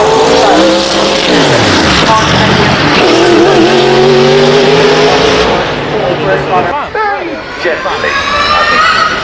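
An extreme Bugatti race car at the Goodwood Festival of Speed 2024 takes a corner, its engine roaring loud and close with rising and falling revs and gear changes while a commentator talks over it.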